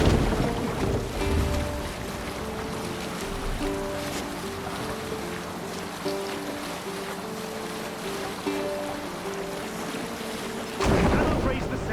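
A sailing ship moves across open water in Assassin's Creed Valhalla: a steady rush of wind and waves with low, sustained tones running underneath for the whole stretch.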